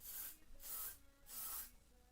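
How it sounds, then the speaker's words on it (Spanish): A deodorant atomizer spraying a powdery mist: three quick hissing bursts in a steady rhythm, close and soft, each puff lasting about half a second. "aquí está el tapón de lo que es el difusor, el atomizador en spray, que está aquí, funciona tal que así"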